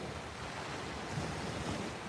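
Ocean surf at a beach rolls in a steady, broad wash of noise with wind buffeting the microphone, continuous and fairly close, no voices.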